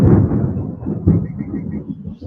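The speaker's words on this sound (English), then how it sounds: "Yes, live thunder. It's starting to pop up." Thunder rolls outdoors during a live stream near a barn: a low, heavy rumble that swells at the start, surges again about a second later, then trails off as a steady murmur.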